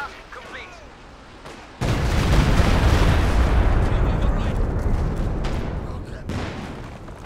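Stuka rocket barrage in a Company of Heroes 2 match: a sudden heavy onset of rumbling explosions and rocket fire that rolls on loudly for several seconds, then eases, with a commentator talking over it.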